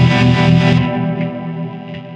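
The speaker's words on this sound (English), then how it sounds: "if I do a sort of fairly normal pop chord progression" Electric guitar on an all-plastic body strumming a pop chord progression through distortion and chorus effects, loud and saturated, the chord ringing and changing midway before fading slightly, with no talk.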